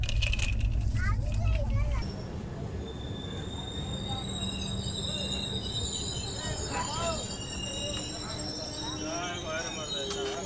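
Jharkhand Swarna Jayanti Express pulling into Daltonganj station, with steady rumbling wheels, squealing brakes, a distant horn and someone talking over the train noise.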